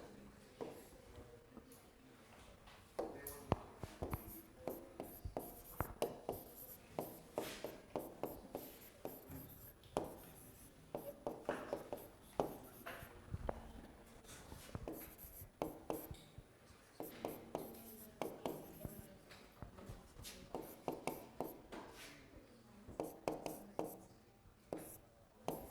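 Marker or chalk writing on a board during a linear regression lecture: bursts of squeaky, scratchy strokes in quick irregular clusters, close and fairly quiet, with pauses between phrases and faint speech nearby.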